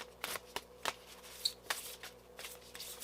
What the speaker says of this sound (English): These are kind of a bitch to shuffle.